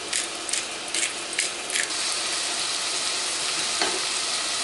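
Seasoned salt cod and yam mixture cooking in a pan, a steady, fairly loud sizzle throughout, with several quick stirring scrapes in the first two seconds and no talking.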